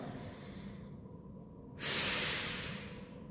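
A single long exhale through the mouth during a core exercise, a close breathy hiss that swells suddenly midway and tapers off, with quiet room noise before it.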